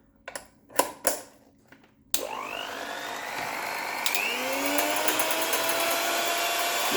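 A KRUPS electric hand mixer is clicked and handled a few times, then its motor starts abruptly and whines steadily up to speed, stepping to a higher, louder speed partway through, running close by without talk.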